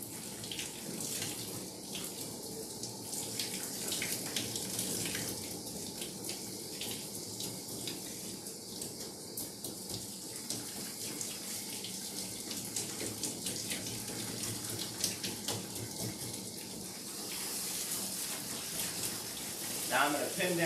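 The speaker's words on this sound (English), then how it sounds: "Again, very low water pressure, and I'm going to start with rinsing out her eyes" Gentle low-pressure water streams steadily from a hose sprayer while rinsing soap from a dog's eyes during professional grooming, a continuous close hiss with faint splashing and no pauses.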